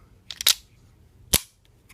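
A Ruger Mark IV .22 LR pistol gives a few sharp metallic clicks as it is taken apart: a quick cluster of snaps, then one crisp click about a second later, close and clear against near silence.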